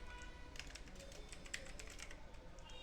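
Fast, steady typing on a computer keyboard, with dense, light key clicks close to the microphone and no speech over them.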